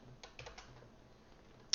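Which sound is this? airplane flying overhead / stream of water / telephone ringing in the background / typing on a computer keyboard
typing on a computer keyboard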